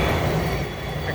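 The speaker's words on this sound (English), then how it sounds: "excuse the train noise" A train passes nearby with a steady low rumble and rattle, a faint wheel squeal rising briefly near the end, with no voices over it.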